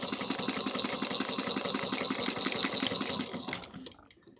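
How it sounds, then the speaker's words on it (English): A sewing machine back-stitches across a bag seam on a change pouch, a steady rapid mechanical whir with dense stitching pulses that runs loud and continuous before slowing and fading out near the end. "And then I always do a few back stitches into that transition mark"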